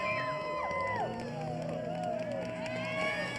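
A crowd at the X Games Aspen men's ski big air event cheers and whoops amid whistles and shouts, a continuous lively roar of many voices with scattered higher yells rising and falling.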